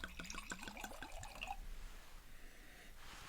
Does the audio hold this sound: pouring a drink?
yes